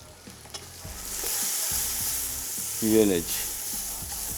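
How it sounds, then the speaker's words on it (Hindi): Whole round dried red chillies, coriander seeds and red chilli powder are stirred together in a biryani pot. A spoon scrapes and clanks through a steady close sizzle, and a voice speaks briefly partway through. "और ये मिक्स किया।"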